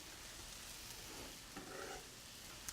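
Minced jalapenos frying in a pan for a black bean dip, a steady broadband sizzle with faint stirring scrapes, close and moderately quiet, no talk.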